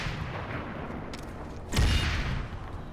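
A single heavy explosion from a sticky grenade in a video game bursts out midway, a short deep boom over faint background game noise.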